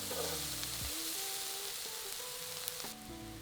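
Curry powder, paprika and cinnamon sizzling in a hot pan, a soft steady frying hiss with faint crackles, quiet and close, while tonal background music plays underneath; no speech.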